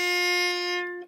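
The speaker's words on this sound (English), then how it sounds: "my A string is really out of tune" A single sustained bowed note on an out-of-tune violin A string, steady and slightly off-pitch, rings for about a second before fading out.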